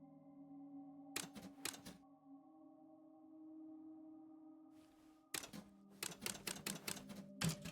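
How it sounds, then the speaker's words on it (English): Mechanical typewriter keys clack in two quick bursts of strikes inside the video game Lorelei and the Laser Eyes, separated by a held ambient tone, with the second burst longer and denser. "And this is the typewriter."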